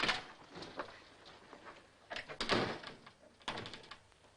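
A door is shut and locked, giving a few soft thuds and metallic clicks spaced over a few seconds, faint and fairly close in a quiet room.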